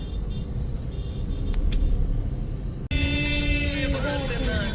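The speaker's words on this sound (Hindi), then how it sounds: "40 मिनट और हम लोग अभी भी वही ट्रैफिक में हैं, ट्रक के पीछे" Road traffic jam behind a truck on a highway returning from Mussoorie to Delhi: a steady low engine rumble from inside a vehicle, with music starting partway through.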